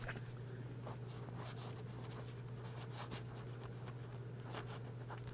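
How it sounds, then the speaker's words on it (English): Waterman fountain pen nib scratching across paper, quiet close-up strokes in an irregular rhythm of short scrapes over a low steady hum. "Let's do some writing."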